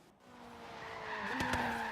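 A Donkervoort D8 GTO in Forza Horizon 3 accelerates with a rising engine note, then its tires squeal sharply in two short bursts near the end, loud and close.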